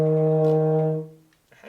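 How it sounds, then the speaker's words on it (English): A euphonium sounds a sustained E flat, a single steady brass tone lasting about a second before it fades into quiet. "Let's try that E flat one more time with good posture."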